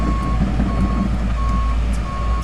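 A truck on a construction site sounds its reversing alarm, four evenly spaced high beeps over a steady engine rumble.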